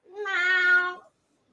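A child imitates a cat with a single drawn-out, high, wavering meow of about a second, close and clear, followed by silence.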